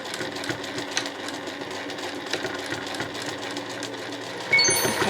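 A sewing machine runs steadily while stitching a gentle curve in cotton fabric for a two-way shoulder bag, with a continuous close mechanical whir and rapid needle clatter, then a brief louder bump near the end.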